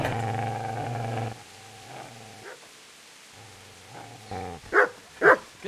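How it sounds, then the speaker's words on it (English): A dog gives a few sharp close barks and yips near the end, after a stretch of low tonal sound and quiet. "Get away, you mutt!"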